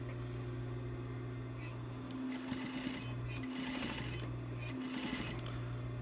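A sewing machine stitches fabric for a 5-panel cap, its motor humming steadily and running in several bursts with brief slowdowns between them, close and clear, with faint talk in the background.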